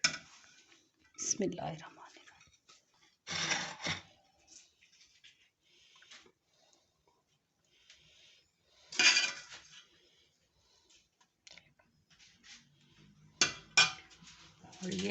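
Plates, pots and cutlery clink in scattered bursts while mandi is plated, a few sharper clatters between stretches of quiet and a spoken phrase.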